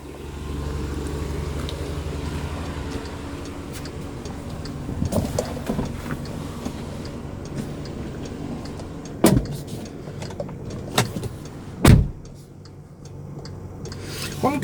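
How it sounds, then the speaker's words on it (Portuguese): A car rolls slowly downhill on its own during a front-in parking manoeuvre, speed held by light brake and clutch: a steady low rumble with soft rubbing and ticking, broken by a few sharp clunks and thumps near the end. "Freio e embreagem e deixei o carro descer sozinho, controlando só um pouquinho no freio"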